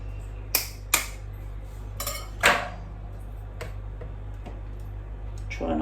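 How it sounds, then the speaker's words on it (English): Eggs cracked in one at a time and blended into beetroot chocolate cake batter, heard as a few sharp clinks and taps of utensil against a bowl over a steady low hum, with no talking. "I'm going to add the eggs one at a time and just blend them in"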